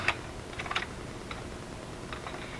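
A paper cutter slices paper strips for a butterfly journal, giving a few light, quick clicks and ticks in small clusters, faint and close, with no talking.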